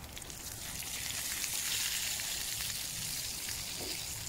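Meat frying in a pan ahead of grilling, cooked outdoors in a wild cooking setting: a steady, fairly loud crackling sizzle with fine popping spatter that holds evenly throughout, with no talk.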